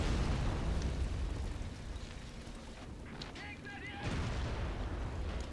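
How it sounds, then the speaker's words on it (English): A Katyusha rocket battery fires in the World War II strategy game Men of War: Assault Squad 2 during a Stalingrad defence, giving a continuous loud roaring barrage of launches and blasts. A brief whistling streak cuts through partway. "we will give the Germans a nice parting gift in the form of a Katushka rocket battery basket"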